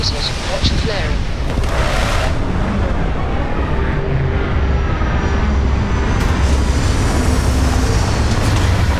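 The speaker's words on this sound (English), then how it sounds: "Landing initiated." A spaceship comes in to land in the video game Starfield, with a loud sustained engine roar and rumbling thrust that holds steady and close throughout, while a voice speaks over it.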